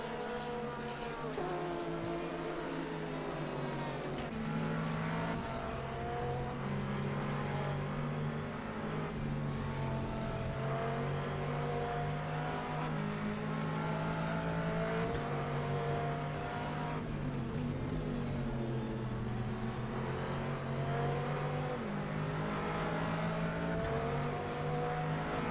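Race cars, including a Ferrari and a Corvette, roar in a sim racing game set at Watkins Glen during a six-hour endurance race, with steady droning engine tones rising and falling through gear changes and no one talking.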